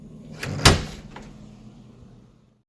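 A door is pushed open with a single sharp crack as its latch gives way, followed by a short rattle and fading creak, close and fairly loud.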